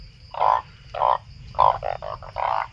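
Several loud, nasal bullfrog croaks from a dry upland forest, arriving in separated pulses, then a quicker cluster of shorter calls near the end, all close and clear with no voices.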